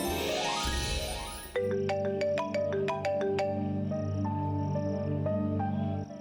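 A phone ringtone sounds as a call is placed, a bright repeating electronic melody of stepped tones that starts abruptly after a brief musical swell and plays steadily and clearly for several seconds.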